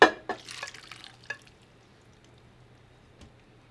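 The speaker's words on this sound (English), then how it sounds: "we want to add our liquid base" Liquid base and beans are poured into a pot set on high heat. There is a short splashy pour with drips and clinks in the first second or so, then near silence.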